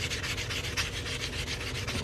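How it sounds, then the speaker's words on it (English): Continuous close rasping of sandpaper on the cut edge of a silver half dollar coin being made into a ring, a steady rubbing texture with quick back-and-forth pulses. "Now I'm going to sand this cut edge, make sure that stays nice and smooth."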